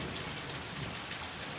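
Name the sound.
heavy rain falling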